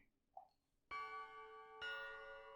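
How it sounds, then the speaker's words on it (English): A school bell in a video game marks the end of class with two clear, ringing chime strikes that sustain and overlap. A small faint blip comes just before them in otherwise quiet surroundings. "The bell for the end of class rang while I watched her."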